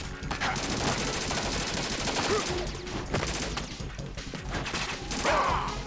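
Rapid bursts of gunfire in Metal Gear Solid 2 crackle continuously through a dense, loud action scene, with clattering impacts and a brief swell of noise near the end.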